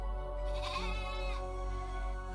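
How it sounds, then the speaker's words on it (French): Ewes bleating in a cave, a sustained wavering bleat rising and falling over about two seconds, close and fairly loud with no talk. "Elles ne cessent de bêler"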